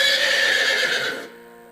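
A horse lets out a loud whinny as it kicks, one close neigh with a wavering, descending pitch that cuts off after about a second.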